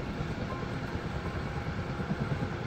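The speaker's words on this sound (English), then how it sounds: "I just flew a helicopter successfully this time." A modded Minecraft helicopter flying, a steady loud rotor chop and engine drone, close and unbroken, with no other sounds.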